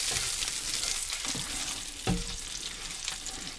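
Sausage frying in its own grease in a pan, a steady crackling hiss throughout with a brief clatter partway through, fairly quiet and with no voices.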